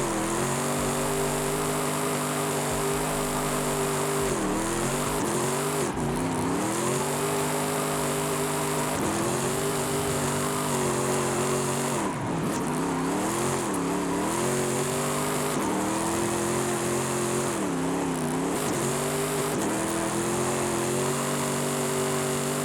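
Cadillac CTS-V engine in Forza Horizon 5 drifting, a loud continuous roar that rises and falls through repeated revs and gear changes with a steady whine on top, playing alone for the whole stretch.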